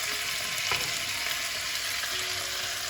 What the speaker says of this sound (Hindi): हमने जस्ट 5 मिनट के लिए चिकन को भूनना है